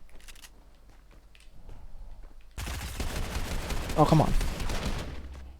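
Rapid bursts of gunfire from an exchange in Fortnite Arena Solos, loud and dense, breaking in sharply after a quieter stretch and rolling on to the end, with a brief frustrated voice cutting in over it.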